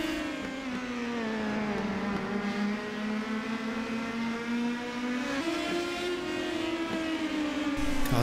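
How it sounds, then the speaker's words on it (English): Race cars lapping Laguna Seca Raceway in a vintage 60+ class race, engines droning loud and steady with rising and falling pitch as they accelerate and shift, one continuous close pass with no voices. "Cars getting more tail happy as they get towards the end of the race."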